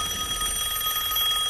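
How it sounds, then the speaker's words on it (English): Telephone ringing with a steady electronic trill, bright and insistent, repeating rapidly without pause and heard clearly on its own. "My phone goes on and off."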